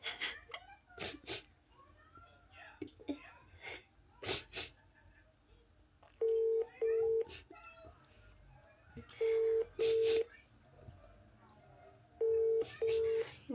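A phone call goes out from a home, repeated paired electronic ringing tones sounding in three spaced bursts, with scattered clicks, shuffling and a cat's sounds in a quiet room.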